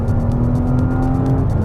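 Porsche Cayenne engine droning steadily under load on a handling test drive, a sustained loud hum with a little rising revving, close and continuous with no talk.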